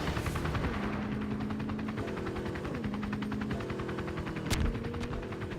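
An APC in a video game fires a rapid, regular stream of machine-gun bursts, the fast rattling shots running continuously over a droning engine hum, with one sharper bang near the end.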